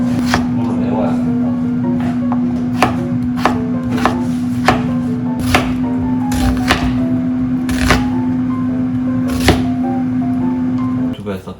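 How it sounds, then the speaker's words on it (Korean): A knife dices onion into cubes on a cutting board, producing a steady series of sharp chops over a constant low electrical hum, with voices talking quietly in the background. "양파를 먹기 좋은 크기로 깍둑 썰기 합니다"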